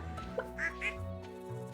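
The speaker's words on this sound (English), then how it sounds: "Duck. Duck." A duck in the farming game Stardew Valley gives two short quacks over soft background game music, fairly quiet and close, with no talking over them.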